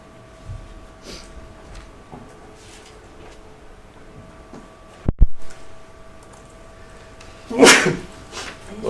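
A single sneeze in a public board meeting room, a sharp burst toward the end after a soft background hum and faint scattered clicks, with a thump a few seconds earlier.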